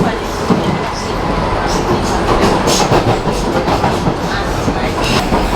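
A small Emirates cable car cabin in London carries riders with a loud, steady rumble and faint rhythmic clicking from the moving line, a constant rushing drone filling the enclosed cabin.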